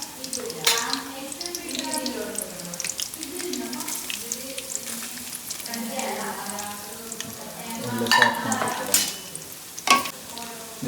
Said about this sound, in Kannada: ಗಾರ್ಲಿಕ್, ಜಿಂಜರ್ ಮತ್ತು ಕರಿ ಲೀವ್ಸ್ ಹಾಕಿ ಕೊಕೊನಟ್ ಆಯಿಲಲ್ಲಿ ಸಾಟ್ ಮಾಡಿದ್ವಿ